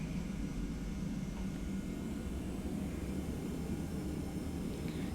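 Auxiliary power unit running on a TFDI 717 airliner in a flight simulator, a faint, even, continuous hum and rush with no breaks.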